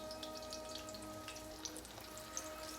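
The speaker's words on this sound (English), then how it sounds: "we're going to cook them in the oil till they get golden brown" Food frying in oil until golden brown, a steady close sizzle with fine crackling and occasional louder pops, fairly quiet and continuous with no voices.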